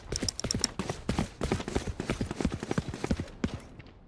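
Footsteps from Valorant, a tactical shooter game, come as a rapid, crisp run of close steps with sharp clicky transients and some brief metallic-sounding taps, steady and rhythmic with no talk.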